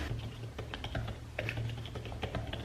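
Keys tapped on an Apple Smart Keyboard Folio attached to an iPad, a close, steady run of soft plastic clicks in irregular rhythm with no one speaking.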